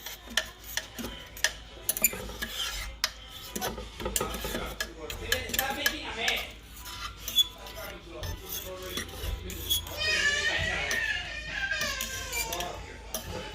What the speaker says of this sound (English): So I'm just kind of mixing everything together here.